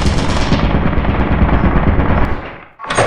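Rapid automatic gunfire in the horror video game Lethal Company, a loud, dense burst of shots lasting nearly three seconds before cutting off abruptly.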